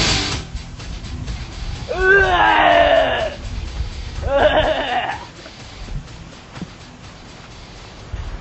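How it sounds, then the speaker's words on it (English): A man in a real-life Quake deathmatch parody screams in agony, two drawn-out wavering wails about a second each, loud and close, followed by quieter rustling. "Man is crawling around for about 5 minutes, screaming in agony, and then the final death cry."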